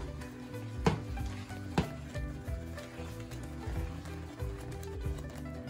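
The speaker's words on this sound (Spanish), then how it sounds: "Ahora que ya esté hirviendo nuestra salsa, vamos a revolverla un poquito." Red chilaquiles salsa bubbles and sizzles in a pan while a utensil stirs it, a faint steady simmer with a couple of sharp scraping knocks against the pan.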